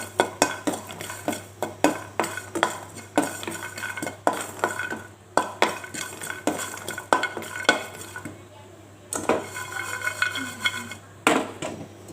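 Cumin and candlenuts dry-roasting together in a pan for beef rawon, with a utensil scraping and clinking against the pan in a steady, repeated stirring rhythm, close and clear, with no voices.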